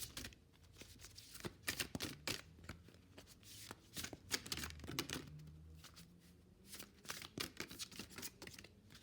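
A deck of animal oracle cards being shuffled and handled during a card reading, with repeated riffling bursts and soft paper slaps, close and fairly quiet, without talk.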